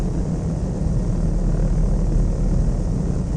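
The propeller engine of a light aircraft in the video game Flight Sim World, throttle cut, makes a steady low rumbling drone with a broad hiss, loud and unbroken, with no voices.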